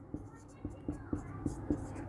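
Handwriting during a classroom lesson, five or six crisp, evenly spaced strokes and taps on a board, close and clear above a low constant background hum.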